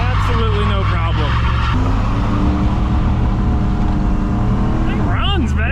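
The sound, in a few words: Chevrolet Camaro IROC-Z 305 engine running and revving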